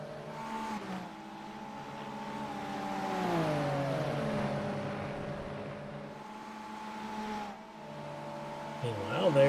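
Race cars, an LMP2 prototype among them, run on the Road America circuit in a World Challenge round, with steady engine drones whose pitch sweeps down and back up, loud and continuous, under commentary talk.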